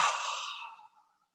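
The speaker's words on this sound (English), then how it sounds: "And again, nice deep breath." A single deep breath during a yoga practice, a soft airy exhale lasting just under a second that fades gradually into silence, close and alone.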